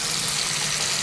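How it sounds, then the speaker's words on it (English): Water runs steadily from a bathroom sink faucet, a continuous close, full hiss of flow with no pauses and no voices. "So let's check the water pressure"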